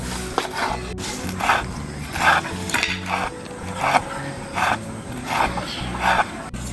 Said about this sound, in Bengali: এখন এই ধনেপাতাটাকে কুচি করে